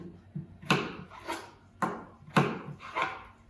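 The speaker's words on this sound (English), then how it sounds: "So, chop these up, put it in the pot." Knife chopping washed, unpeeled potatoes on a board for a massaman curry, about six distinct sharp cuts at an uneven rhythm, close and clear with no talking.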